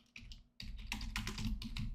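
Computer keyboard typing, a brief burst of rapid close key taps after a short pause, with no speech.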